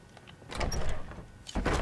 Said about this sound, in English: Come on, it's only a door.